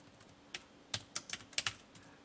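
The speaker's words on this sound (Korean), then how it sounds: "저도 타이핑을 쳐보겠습니다" Close, quiet keystrokes on a computer keyboard while entering spreadsheet data, an irregular burst of about eight clicks after a couple of isolated taps.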